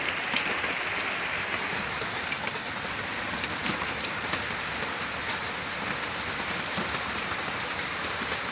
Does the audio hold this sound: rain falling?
yes